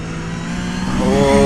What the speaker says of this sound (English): I've got to say the sound is beautiful with these Porsches